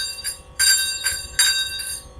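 A small hand bell is rung to cleanse the air, giving a few bright ringing strikes in quick succession that shimmer and overlap, close and clear, with no talk.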